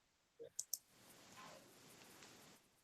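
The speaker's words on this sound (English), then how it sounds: "just keep clicking on it and panel will show up" Computer mouse clicking in Silhouette Studio software, three quick crisp clicks in close succession, near and clear over a quiet room.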